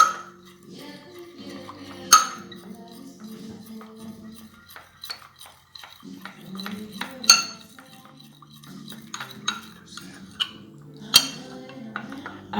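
Repeated clinking and scraping of a utensil against a dish while ingredients are stirred together with olive oil, with sharp metallic chinks over a steady scraping bed, close and clear.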